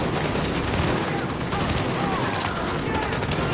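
Sustained gunfire from The Division, a dense rattle of rapid shots filling the whole moment, loud and close with no pauses.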